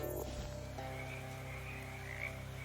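Frog croaking in the video game Shadows Over Loathing, a low steady croak held over a droning game soundtrack, moderately loud and continuous with no talk.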